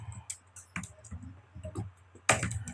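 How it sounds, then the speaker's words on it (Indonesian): Several sharp clicks of keys being pressed on a computer keyboard, including the Alt key, scattered irregularly with one louder cluster near the end, close and fairly quiet. "tekan Alt di keyboard"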